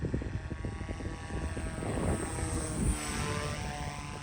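An FPV flying wing model plane drones steadily with a whirring propeller buzz, a continuous, fairly loud engine tone that swells slightly as it passes, with no voices.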